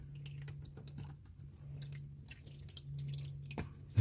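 Transmission fluid drains from a 727 Torqueflite transmission, dripping as a steady patter of small close drops over a low continuous hum, with a couple of louder splashes near the end.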